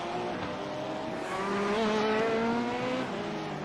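BMW M4 race cars drive into a corner in a racing video game, a steady, loud engine drone with wavering pitch tones that rise and fall as the cars brake and turn.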